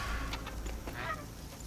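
A honking bird in Horizon Forbidden West, goose-like calls repeating in short bursts at a moderate distance over a steady ambient background.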